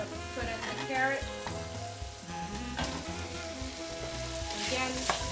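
Carrots go into a hot pan with spices for Ethiopian-style green beans, a busy, steady sizzle and frying crackle with bursts of stirring and clatter.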